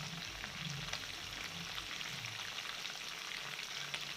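Chicken pieces frying in a pan for a chicken roast, a steady, close sizzle with dense crackling spatter that holds even throughout, no voices over it.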